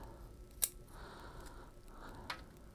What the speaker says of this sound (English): So I'll cut the flower buds off.